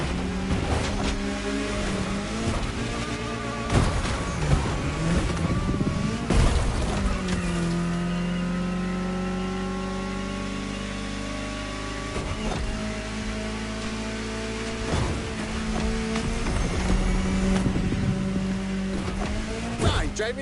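A car drives through the streets of the state capital, its engine hum and road noise steady throughout with passing swells, while music with a voice plays over it.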